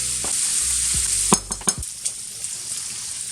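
Bacon fries in a pot on the stove for mac and cheese, giving a steady close sizzle broken by a few sharp clanks and scrapes from stirring.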